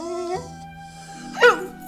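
A dog in a radio drama gives a brief, high, wavering whimper and yip near the end, after a drawn-out mournful tone, close and fairly clear.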